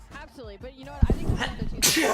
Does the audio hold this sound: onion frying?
no